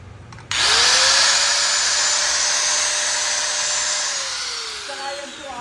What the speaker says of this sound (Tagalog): Dongcheng na grinder